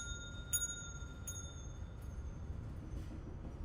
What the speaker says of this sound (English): Let's ring this bell and see what happens